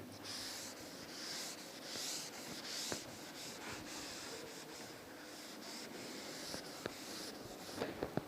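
Chalk equation being rubbed off a classroom board with a cloth or duster, heard as repeated soft scrubbing strokes in a quiet room with a few small knocks toward the end.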